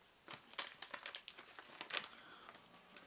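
Wax paper wrapper of a 1982 Donruss Dark Crystal trading card pack being peeled open, a run of close, sharp crinkles and small tearing bursts over about three seconds, with no talk.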